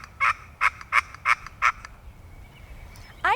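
A wild turkey gobbles in Missouri woodland, five quick rattling bursts in a row at moderate distance, then a short pause before another call begins at the end, with no voices.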